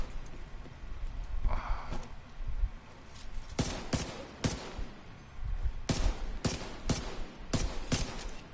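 Gunfire in The Division 2, sharp repeated shots in uneven clusters, close and loud over a busy combat background with no talk.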